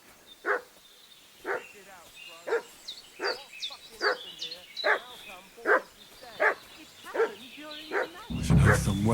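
A dog in a medieval village barks repeatedly in Kingdom Come: Deliverance 2, about a dozen sharp, evenly spaced woofs at moderate distance, ending with a brief rustling burst.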